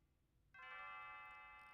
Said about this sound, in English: Oh, is that Leanne's bell?